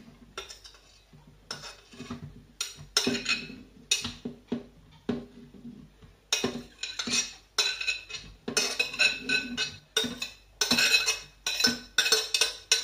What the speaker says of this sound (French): vous mettez votre chou-fleur directement dans le mixeur